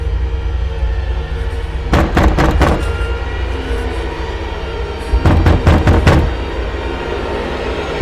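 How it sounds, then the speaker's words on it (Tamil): Two sharp bursts of knocking on a door, each a quick series of about four raps, come several seconds apart against a quiet background. "யோ, நீ ஏன் கதவு தட்டுற?"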